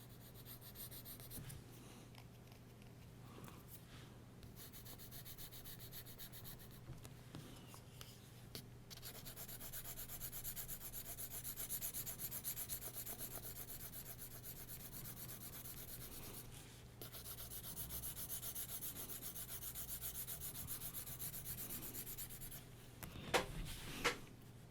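A graphite pencil shades a drawing of a Michelangelo sculpture on paper, producing a long, soft, continuous scratchy rubbing with slight changes in pressure and brief pauses, close and quiet, with a couple of taps near the end.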